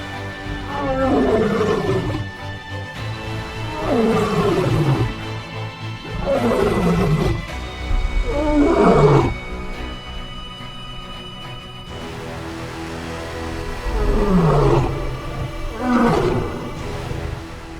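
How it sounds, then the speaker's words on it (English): A lion roars in pain during a fight with predators, giving a series of deep, heavy groaning roars, each about a second or two long and spaced a few seconds apart, loud and close. "Titus's painful roar resounded miserably."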